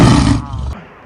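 Narasimha, the half-man half-lion deity, gives a loud, deep roar as he bursts from a pillar. It is a single booming roar lasting under a second that cuts off abruptly into quiet.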